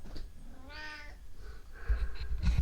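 A cat meows once, a clear rising-and-falling cry close by, followed by shuffling, rustling noises.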